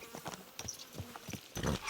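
Horse hooves clip-clopping at a steady walking pace in the medieval game Kingdom Come: Deliverance 2, a few distinct footfalls close by over a quiet background.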